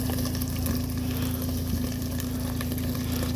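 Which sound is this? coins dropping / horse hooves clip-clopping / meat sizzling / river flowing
meat sizzling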